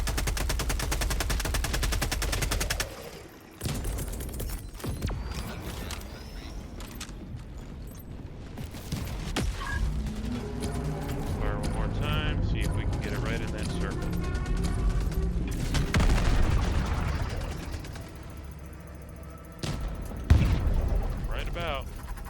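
In the co-op shooter Helldivers 2, repeated gunshots and heavier artillery blasts crack out in bursts with mechanical clanks between them, while a player talks through much of the action.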